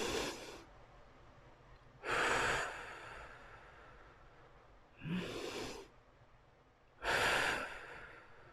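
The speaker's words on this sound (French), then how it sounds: "Respire profondément, inspire sur 4 temps. Retiens 2 temps, expire sur 6 temps." Slow, deep breathing in a guided relaxation, with long airy inhales and exhales in four drawn-out waves, close and prominent over a low steady background hum.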